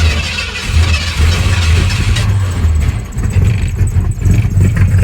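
A 1968 Ford Fairlane engine runs at a loud, close, rough idle with a steady low rumble and slight surges, heard on its own without talk.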